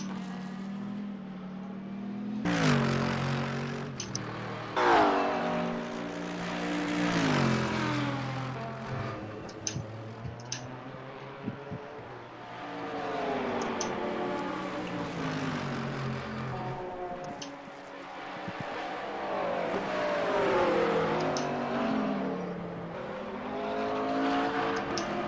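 Antara GT3 race car engine at the Kansai circuit in a racing video game, a loud sustained drone rising and falling through repeated upshifts and downshifts across the lap, with no talk.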